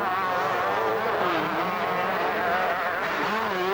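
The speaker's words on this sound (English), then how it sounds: "Damon Bradshaw keeps that 125 Yamaha flat out" A 125cc Yamaha motocross bike held flat out during a 1990 race, its high-pitched two-stroke engine buzzing loud and steady with slight rises and dips in pitch, joined by other bikes.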